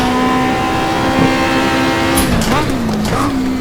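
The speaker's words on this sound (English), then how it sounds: "now I'm trying to drift it. It's harder than unintentional drifting." Chevrolet Camaro engine revving hard while the car is deliberately drifted, a steady droning note that wavers and dips as the tires slide, with a brief squeal of rubber partway through; someone talks over it.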